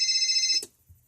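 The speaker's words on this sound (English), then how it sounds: "right there, I began to get another call" A cell phone rings with an incoming call, a steady electronic ringtone pulsing close and clear for about half a second before it cuts off abruptly into near silence.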